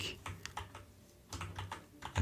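Clicking keystrokes on a computer keyboard, close and moderately loud, in short uneven bursts with brief pauses, no talking.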